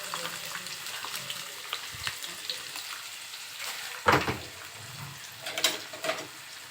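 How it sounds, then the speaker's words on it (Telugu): Onions and fresh curry leaves dropped into about three spoons of hot oil for tamarind rice, giving a continuous close sizzle with a few sharper crackling bursts partway through. "ఆయిల్ వేడయ్యాక అందులో ఆనియన్స్, పచ్చికరివేపాకు వేసేస్తున్నాను."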